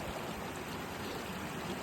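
A waterfall stream on the Goatfell hill route on Arran, a steady broadband rush of falling water filling the whole moment, close and continuous with no voices.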